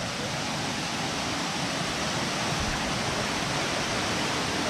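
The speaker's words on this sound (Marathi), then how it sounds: "तर मित्रांनो आजच्या ट्रेकची पहिली रिव्हर क्रॉसिंग आपल्या समोर" A river rushes at the first river crossing of the Devkund waterfall trek in August, a loud, steady broadband roar of flowing water with no breaks, close by.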